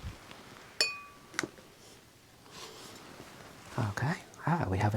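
A Cobra beer glass being handled during a glassware review, giving a few light clinks and taps early on, then soft handling noises as a voice speaks quietly close by.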